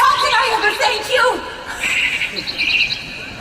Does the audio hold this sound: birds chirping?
yes